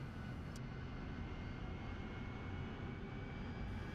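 Steady whining roar of a RAZBAM AV-8B Harrier jet engine in DCS World, heard from the cockpit during a vertical-takeoff-mode landing approach, a continuous broad rumble with no talk.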